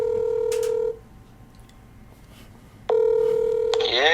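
A phone line gives steady tones: a sustained tone runs for about a second, drops to quiet, then a loud tone returns with brief dialing beeps near the end.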